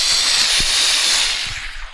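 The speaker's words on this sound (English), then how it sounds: "I've got a little steamer here, and what I'm going to do is try and steam out as many of the creases that I can" A small garment steamer hisses loudly and steadily up close, a continuous airy rush of steam that fades slightly toward the end.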